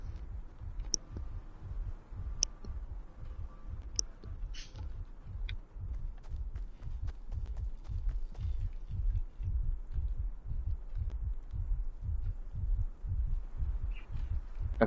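A low, muffled heartbeat thumps in a steady repeating rhythm in Fortnite near a Fortbyte, growing slightly stronger over time, with faint clicks and small game effects scattered above it and no talking.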